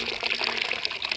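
A water ram pump gushing with flowing water, a steady bright rushing splash with faint rhythmic surges, close and continuous with no voices.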